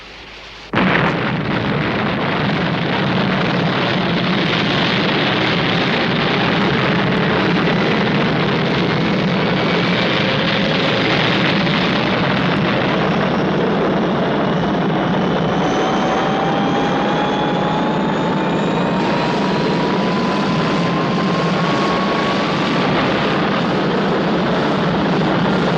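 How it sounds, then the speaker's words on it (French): A jet aircraft takes off in a 1964 French air force setting: a sudden, loud, sustained engine roar that fills the whole stretch, with a turbine whine slowly climbing in pitch and no voices. "Décollage."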